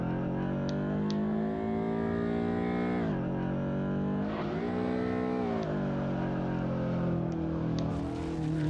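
A car drifts at full lock in a racing video game, its engine screaming steadily at high revs with pitch dips and surges as the throttle shifts, loud and continuous with no talk.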